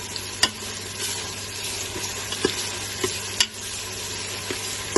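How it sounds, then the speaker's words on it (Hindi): Onions sauté in a pan for a fish gravy, a steady moderate hiss of frying with a few sharp clicks and pops scattered through, no one speaking. "इसको 2 से 3 मिनट तक इसकी भुनाई कर लेंगे प्याज को। इसको सौते करना है"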